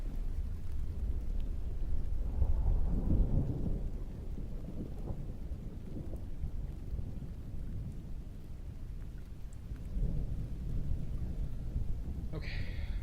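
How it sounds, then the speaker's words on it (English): A thunderstorm rumbles with low rolling thunder over steady rain, continuous and moderately loud, with swells of thunder near the start and again toward the end, and no talking. "it is a real storm"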